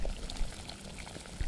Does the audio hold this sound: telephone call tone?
no